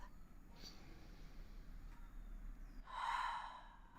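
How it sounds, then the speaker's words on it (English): During a yoga session a person takes one slow, deep breath, soft at first and then a fuller, audible exhale near the end, close to the mic, with no speech. "One more nice big breath"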